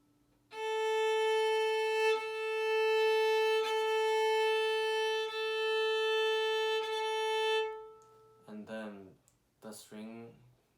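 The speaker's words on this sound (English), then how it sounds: "the second to right string is known as A string" A single sustained bowed note on a violin's open A string, steady and resonant for about seven seconds, then a person starts speaking.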